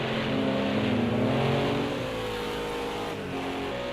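Several race car engines howl in a BTCC touring-car racing video game, loud and constant at first, with one car passing and the roar easing slightly afterward.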